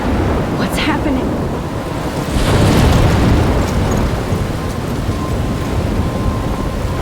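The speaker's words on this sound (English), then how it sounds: "I'm trapped in a storm?" Storm in the video game Life is Strange near a lighthouse, heavy continuous rain and wind roar with thunder rumbling and cracking through it, loud and dense throughout.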